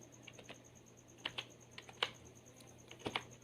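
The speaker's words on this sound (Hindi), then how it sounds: "और नीचे टाइप कर देते हैं नोटबुक।" Keys clack on a computer keyboard in an irregular run of close, crisp taps with short pauses between bursts, over a faint steady hum. No one speaks.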